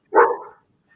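A single short dog bark, close and fairly loud, from a pet dog in a home setting, followed by quiet.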